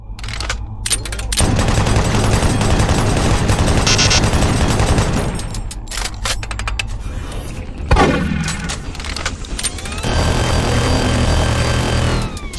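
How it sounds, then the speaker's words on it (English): Chain gun in the Doom 3 Phobos mod firing in long, rapid, unbroken bursts, loud and dense, with a short pause and a boom-like hit near the middle before the sustained fire resumes. "my personal favorite has to be the chain gun. This thing is absolutely ridiculous compared to the base game."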